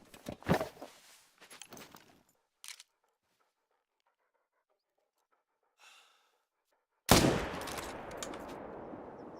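Single loud rifle shot in theHunter: Call of the Wild, hunting red deer in Scotland, a sharp broadband crack followed by a decaying rumbling tail, preceded by scattered quieter noises and breathing.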